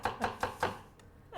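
A knife chops quickly through onion on a cutting board in four fast, crisp strikes, close and fairly quiet, followed by a softer knock.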